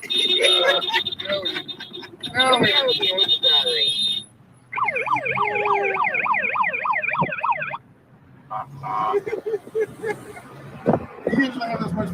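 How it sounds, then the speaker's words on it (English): An old-style truck siren on a convoy vehicle rolling toward DC wails in rising and falling sweeps, sounding loud and near. Road noise and talk surround it, with a short pause partway through. "That was my siren."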